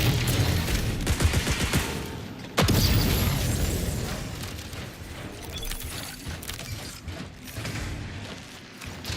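Dense gunfire crackles in the online shooter game Outpost, rapid bursts and booms layered over one another with one sharp loud shot standing out, continuing steadily throughout.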